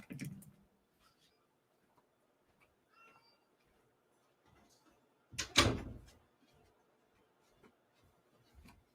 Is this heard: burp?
no